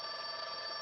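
A telephone rings in an employment agency office, a steady electronic bell tone holding for under a second with no voice over it.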